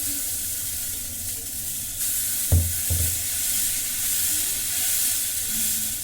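Dosa batter sizzles on a hot stone griddle, a steady close hiss and fry with a brief clatter partway through, no voices.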